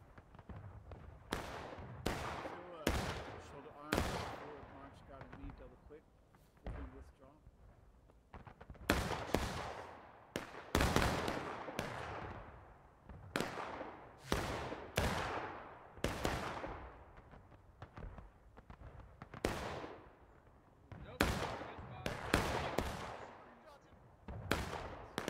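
Musket volleys in the Civil War game War of Rights on the Bloody Lane map with a large crowd of players: repeated sharp cracks, some near and loud, others distant, in an irregular rolling barrage across the whole stretch.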